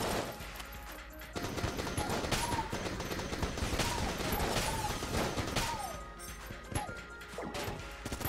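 Rapid enemy gunfire crackles and smashes through a dense, continuous wash of game noise in Enter the Gungeon, with bursts overlapping and no pause across the whole stretch.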